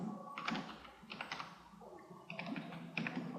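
Typing on a computer keyboard, quick clusters of close clicking keystrokes separated by short pauses.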